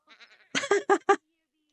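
A goat in The Sims 4 gives a short, quiet quavering bleat, followed by a louder run of four clear bleats in quick succession, alone with no talk.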